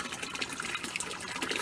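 A soft, steady trickle of pump-fed water spills from a bamboo pipe into a small koi pond, a gentle continuous splashing heard close and alone.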